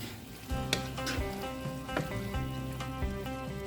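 Zucchini frying in butter and garlic crackles and hisses in a pan, with a few clinking stirs over prominent background music.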